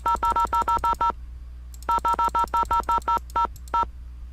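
Telephone keypad tones in the Nancy Drew game The Haunted Carousel, a rapid string of short, evenly spaced beeps, a pause, then a second string of beeps with one slightly slower final tone.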